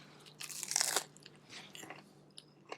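A crunchy breaded fried green tomato bitten up close with a loud crisp crunch, followed by several softer chewing crunches that fade away.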